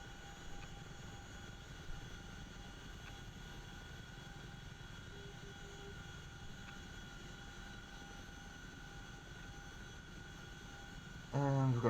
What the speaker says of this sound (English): I'm going to just fly around the ship here.